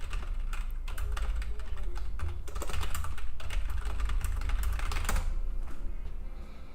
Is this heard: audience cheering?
no